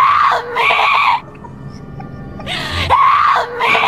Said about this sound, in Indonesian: seorang wanita yang sangat ketakutan yang berada di sebuah tempat yang gelap, yang dimana ia berteriak meminta tolong